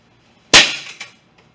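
A pollaxe strikes a man's stomach over padded armour with one sharp, loud cracking impact that rings briefly, followed by a smaller knock and a faint tap.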